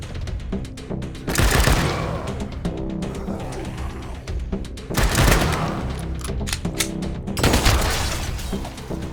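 Wasteland 3 combat gunfire bursts out in three heavy volleys, each a loud cluster of booming shots and impacts, separated by quieter stretches of battle noise.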